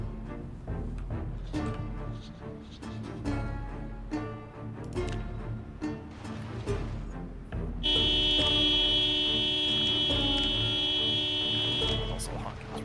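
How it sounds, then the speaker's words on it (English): A car horn in the zombie survival game Project Zomboid blares in one long continuous honk lasting about five seconds, loud and steady over ongoing game noise, with a voice talking earlier. "honking is really fucking annoying"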